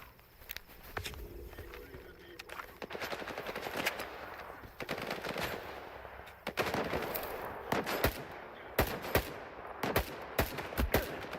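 Gunfire in the video game S.T.A.L.K.E.R. 2: sharp, loud shots in irregular bursts and single cracks, mixed with footsteps and movement, growing denser toward the end, with a voice speaking at times.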